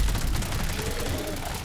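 Rapid submachine gun fire in a video game, a dense sustained burst of shots with no clear gaps, loud and close, running the whole length without talk.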